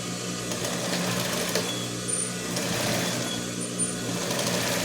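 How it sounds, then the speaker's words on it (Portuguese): A sewing machine runs steadily, stitching fabric for a boot bag, a continuous close mechanical whir with a low motor hum and no pauses. "E bora costurar."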